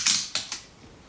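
Sticky tape pulled off a roll while making a cardboard weaving loom, heard as one loud ripping burst followed by two shorter peeling tugs, close and alone.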